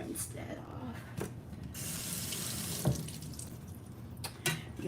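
A dough scraper is rinsed under a kitchen tap, with water spraying and splashing into the sink as a steady rush that shifts while the scraper is turned, punctuated by a few clunks.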